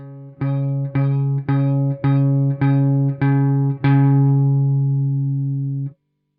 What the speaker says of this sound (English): Now we start to apply a little pressure with all 3 fingers and pick the E string.